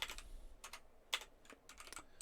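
Computer keyboard typing in quick irregular bursts of clicks, close and fairly quiet, with short pauses between clusters of keystrokes and no talking.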